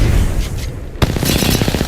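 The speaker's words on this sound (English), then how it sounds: "he just got hit by a frag grenade" Frag grenade exploding in the Apex Legends video game: a sharp loud boom about midway through, followed by rumbling, crackling debris over dense game noise.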